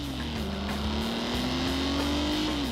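An Alfa Romeo car's engine drones steadily while driving, a continuous loud hum with a slowly rising then falling pitch and no talk over it.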